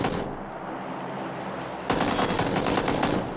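Video game gunfire, thirteen bullets fired in a rapid automatic burst that runs loud and unbroken, then grows harsher and denser near the end.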